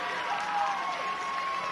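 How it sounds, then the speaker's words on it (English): Home crowd at a high school football game, Mazama at Crater, cheering and clapping in a broad, distant roar that stays steady for a moment. "Home fans here cheering for that one."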